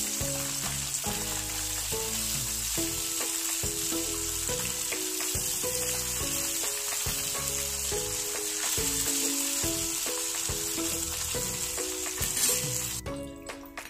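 Fish pieces frying in hot oil for crispy fried fish, a loud continuous sizzle and crackle with no talking, steady throughout before a brief change near the end.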